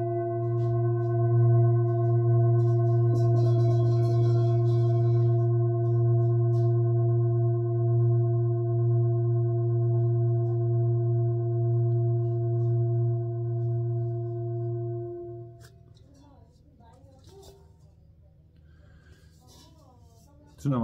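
Singing bowl tuned to A sharp at 119 Hz, weighing 1.7 kg, struck once and ringing in a steady low hum with bright overtones, sustained for about fifteen seconds before fading as light handling noises follow.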